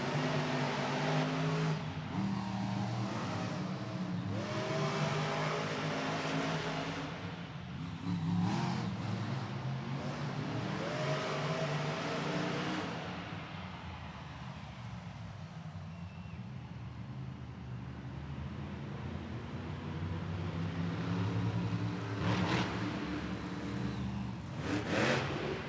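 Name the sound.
monster trucks racing at Monster Jam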